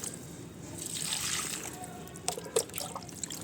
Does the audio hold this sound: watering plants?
yes